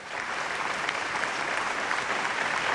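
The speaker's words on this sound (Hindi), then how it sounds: "मैं चाहता हूं कि उनके लिए भी आप जोरदार तालियां बजाएं।" Audience at a Hindi poetry evening bursts into vigorous applause, a dense steady wash of many hands clapping, moderately loud and continuous.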